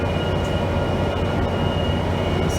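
A Metro Link light rail train rolls steadily past, a loud continuous rumble and whine with a faint high tone running throughout, no voices over it.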